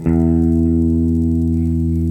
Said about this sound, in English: If I play the low E string